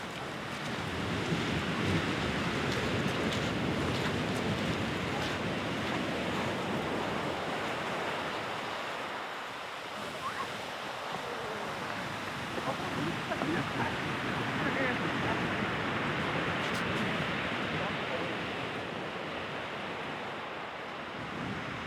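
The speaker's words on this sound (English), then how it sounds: "the famous basalt rocks, which are now being hit by heavy waves" Heavy waves crash against basalt rock columns on Reynisfjara Beach in Iceland, a loud, continuous roar of surf and spray with wind buffeting the microphone throughout.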